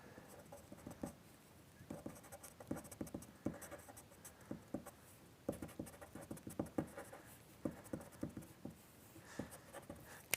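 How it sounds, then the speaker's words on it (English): A pastel pencil scratches across paper in quick, short, sharp strokes, drawing grass highlights on a landscape, with bursts of close, quiet scribbling separated by brief pauses. "you're using really short, sharp marks"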